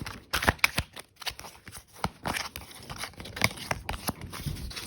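Angel tarot cards being shuffled by hand, a series of riffling, flicking bursts with brief pauses between them, close and moderately loud, no talk.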